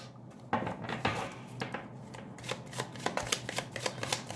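Tarot cards being shuffled by hand, a run of crisp riffling flutters and soft slaps, quiet at first and then quicker and more regular toward the end, heard close up with no speech.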